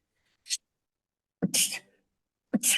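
Three short bursts: a faint breathy one, then two loud sneezes about a second apart, each with a sharp intake and forceful release, close up in a quiet podcast room.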